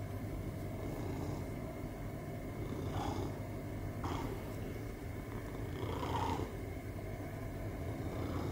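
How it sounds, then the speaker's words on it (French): A pet cat purring during a morning cuddle: a steady low rumbling drone that runs the whole time, close and continuous, with a few faint rustles over it. "Vous allez entendre peut-être le ronron."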